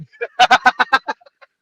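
A cartoon chicken squawks in a fight scene, a rapid run of about seven loud, harsh honking clucks followed by a few fainter trailing squawks.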